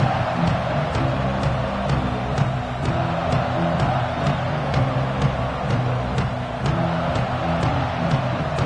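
A stadium crowd at an American football game roars in a steady, dense wash of noise, loud and continuous, with no distinct voices standing out.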